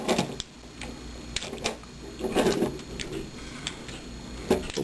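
Plastic arm pieces of a Movie Leader Optimus Prime transforming toy folding into place, a series of sharp close clicks and snaps at irregular intervals, with quiet rustling between.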